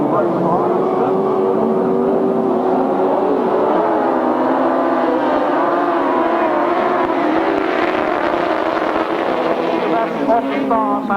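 Grasstrack motorcycles at a 1995 meeting roar away from the start of a race, their engines blending into a loud, rising and wavering buzz under continuous commentary.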